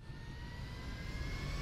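A plane's jet engine drones steadily in GTA 5, a continuous even roar with faint high whine throughout, no talk.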